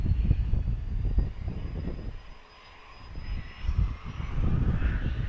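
A Boeing 737 passes at Dallas Love Field with a loud, rumbling roar and a thin whine above it; the roar dips briefly midway, then swells again.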